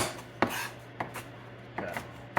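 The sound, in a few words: knife chopping ingredients for organic pest control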